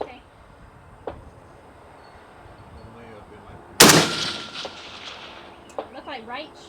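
A PSA 556 KRINK rifle cracks off loudly at a long-range target, one sharp, close shot whose echo rolls away over an open range, with fainter distant reports before and after.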